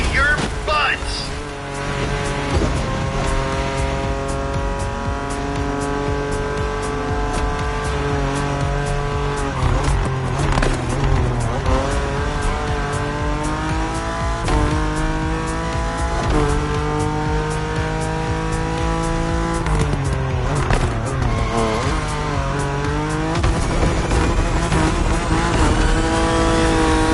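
Racing car in The Crew driving at speed, a loud, steady engine drone with rising and falling revs through gear changes and occasional tire squeal, with voices talking over it throughout.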